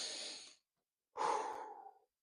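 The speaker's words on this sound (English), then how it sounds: "That's called breathing, if y'all don't know." Two deep, controlled breaths, a long airy exhale and then a second breath after a brief pause, close and clear with no talking.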